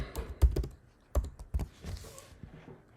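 A few clusters of computer keyboard keystrokes while a policy name is typed into a software form, short tapping bursts with gaps between them, close and moderately quiet, no one talking.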